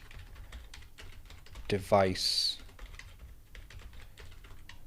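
Close, rapid typing on a computer keyboard with a steady patter of keystrokes, briefly overlapped by a voice talking.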